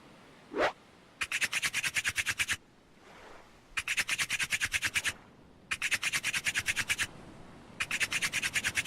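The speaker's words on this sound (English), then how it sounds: "I need to get the fire going, to be honest." Starting a campfire in a survival video game produces bursts of rapid, rhythmic scratching and rubbing, four sets of quick strokes separated by short pauses, with a single brief rising whoosh before the first set.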